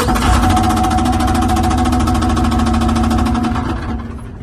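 A blown 6.7 Cummins diesel in a 2012 Dodge 4500 runs with a loud, steady, rapid knocking and clattering rhythm, close up and alone, easing slightly near the end.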